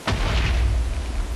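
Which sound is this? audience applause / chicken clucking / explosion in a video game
explosion in a video game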